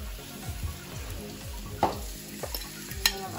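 Garlic, onion, carrots and celery sautéing in a pan, a steady close sizzle with repeated stirring scrapes and a few brief clinks, no talk.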